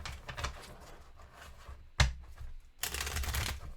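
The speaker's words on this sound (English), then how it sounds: "you combine them back with the rest of your deck, and you shuffle again" A deck of game cards being shuffled during a solo session of the zombie board game Welcome to..., with soft papery riffles, one sharp snap of cards, then a sustained loud burst of shuffling at the end.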